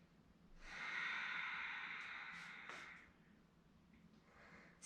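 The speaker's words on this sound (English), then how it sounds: "Breathe in through your nose and out through your nose, rhythmically" Steady nasal breathing during a yoga flow session, a long audible inhale or exhale through the nose rising and fading over a few seconds, fairly close and soft with no talking.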